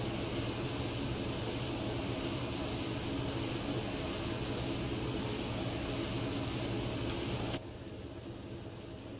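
Airbus A320 jet engine running steadily in the X-Plane 11 flight simulator, a loud continuous broadband roar with a steady whine on top that drops slightly in level near the end.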